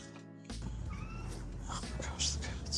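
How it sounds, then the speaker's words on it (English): A cat gives a short meow or two against a low hum in a kitchen during sourdough baking, and a soft voice can be heard beneath it. "Oh my gosh, the cats"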